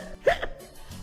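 A storyteller's voice imitates the hiccups of James the engine in a narrated railway story. A single short, sharp vocal hiccup rises briefly, followed by quieter breathy sounds.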